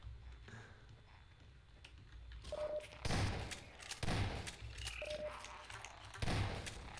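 Gunfire in Half-Life 2 Episode 2, with several sharp shots and bursts spaced a second or so apart over low game ambience, followed by a player's voice talking.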